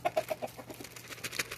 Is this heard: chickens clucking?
yes